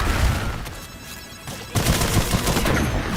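Loud, dense gunfire in the video game Sulfur, including sniper shots from a rooftop, arrives as heavy rapid bursts with booming reports that pause briefly and then resume even harder.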